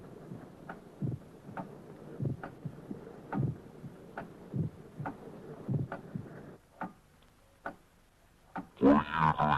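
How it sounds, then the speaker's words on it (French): A regular, evenly spaced pulsing beat of about a dozen soft thumps plays alone, steady and moderately loud, with a brief burst of brighter noise at the very end. "Écoutez mon cœur."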